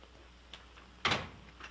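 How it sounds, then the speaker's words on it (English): An old door in a 1938 comedy is opened with a single sharp clack and a brief rattle, fairly close, followed by a short fading rumble in an otherwise quiet room. "Monsieur, I shall have to ask you to open the door."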